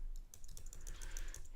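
Rapid keystrokes on a computer keyboard while entering text in the Obsidian note app, a steady close clatter of clicks that runs the whole moment with no voices.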